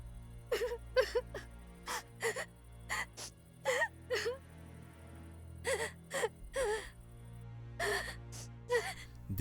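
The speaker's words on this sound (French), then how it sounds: "Des pleurs se font entendre." Crying and whimpering from a figure in a horror audio drama, set near a statue in a village: a series of short, breathy sobs and gasps repeat in uneven bursts, close and fairly quiet over a low steady hum.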